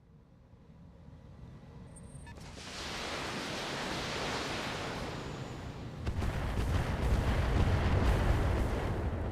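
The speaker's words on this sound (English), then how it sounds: "Some more missiles came in from the main enemy force" Incoming missile impacts in the BattleTech BTA mod, a sustained roaring rumble that swells and then thickens into a heavier, louder barrage of booming blasts.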